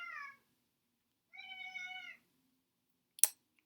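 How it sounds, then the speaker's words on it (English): A house cat meows twice, a short cry followed by a longer drawn-out one, nearby and fairly quiet, then a sharp brief click, with no one speaking. "my cat started going nuts"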